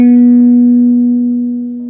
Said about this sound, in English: the 4th fret of the G string, which is the 3rd string